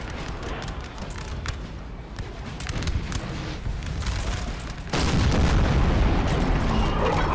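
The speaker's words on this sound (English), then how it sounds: "Maybe you should fire a cluster shot here." Artillery fires a cluster shot in the Napoleonic-era battle game Napoleon: Total War, with booming reports over constant battlefield din, then a sudden louder burst that stays dense and roaring.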